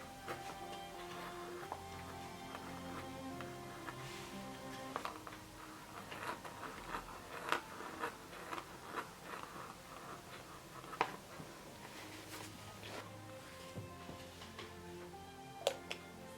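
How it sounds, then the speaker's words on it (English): A quill pen scratches and taps across paper while someone writes decorative arabesques and embellishments. The strokes come as soft, irregular ticks and scrapes over a steady, faint tonal background. "I'm addicted to the sound of quill on the paper"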